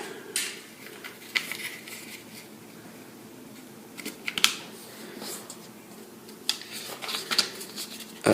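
A sheet of paper is folded in half for a Sonobe cube origami unit, heard as a run of brief crisp rustles and creases close by, with short quiet gaps between them and no speech.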